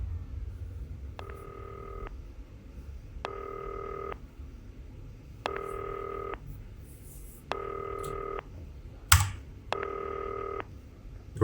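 A phone rings in the video game Not for Broadcast: five evenly spaced electronic ring bursts, each about a second long, over a low background hum, with a short click near the end.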